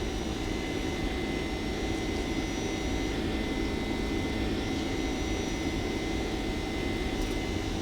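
Steady, loud jet engine roar from an American Airlines 767-300ER in X-Plane 11 during its takeoff roll, heard from over the wing as an unbroken broadband rush with no voices.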